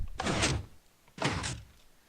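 A dungeon door in a classic adventure video game slides or thuds twice, two evenly spaced heavy rumbling movements each lasting about a third of a second, quiet and alone.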